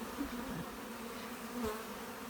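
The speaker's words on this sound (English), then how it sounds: "Definitely an upping of the pitch in the buzz going on here." Bees at a hive, stirred by smoke, drone in a steady raised-pitch buzz, close and continuous with no talk.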